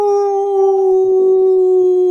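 A single sustained howl holds one steady pitch for about two seconds, loud and close, with no other sounds around it.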